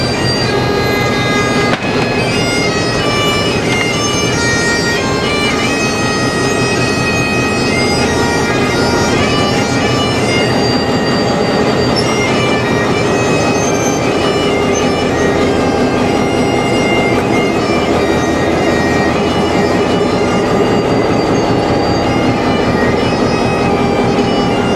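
DBR 1254 diesel electric locomotive at Glenbrook Vintage Railway moving out, a loud, dense, continuous engine roar with layered tonal whine and rumble sustained throughout, close and heavy.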